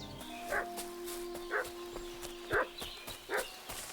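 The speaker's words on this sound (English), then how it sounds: "What's that dog making such a fuss about?" Four sharp barks from a dog in Kingdom Come Deliverance 2, spaced about a second apart at medium distance over a steady ambient game hum with faint background tones.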